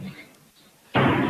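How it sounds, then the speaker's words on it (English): A door slams with a sudden loud broadband bang that holds steady to the end, following a quieter stretch of faint murmuring and room noise, during a ghost-hunting investigation. "You see this door slamming."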